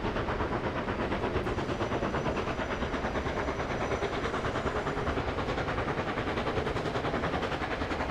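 Steam locomotive in the game Streamlined speeding up, its dense rapid chuffing exhaust merging into a steady loud rumble with an even, fast beat throughout.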